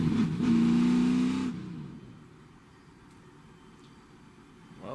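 NASCAR Xfinity race cars at Atlanta Motor Speedway rumble behind the pace car, a loud engine drone for the first second and a half, then dropping to a faint distant hum.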